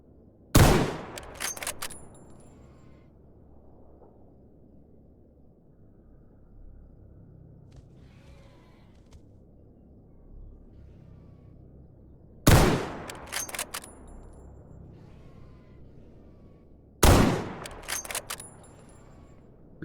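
Gunfire from STALKER GAMMA, sharp loud bursts of several rapid shots at the start and twice more near the end, separated by long stretches of low ambient rumble with no voices.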